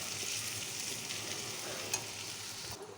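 Steady sizzle of onions frying in homemade desi ghee for a tempering, with soft stirring scrapes and a brief louder crackle near the end, close and without talk.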